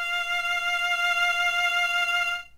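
An F on the violin's E string in first position, fingered right beside the open string, sounds as a single sustained bowed tone, close and steady, ending abruptly with no voices.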